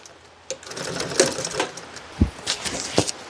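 A sewing machine fitted with a needle positioner stitches car upholstery for a 1966 Ford Galaxie, running in short uneven bursts of mechanical whirring and clicking, with a few sharp low knocks near the end.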